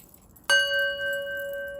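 A bright bell struck once, its clear ringing tone sustaining and slowly fading before a second strike comes at the very end, used to mark the stone of the day segment on a crystal show.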